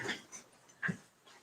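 Pet dogs in a home office make faint, brief whimpers and breathy yips, two or three short soft sounds with quiet gaps between.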